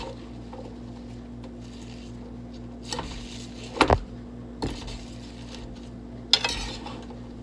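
A utensil stirs and mixes tuna tetrazzini in a cooking pan, giving a few sharp clanks and scrapes against the metal over a steady low hum, with quiet stretches between the strokes.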